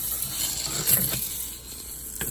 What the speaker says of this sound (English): Now I'm gonna cook the mung bean until it turns golden brown.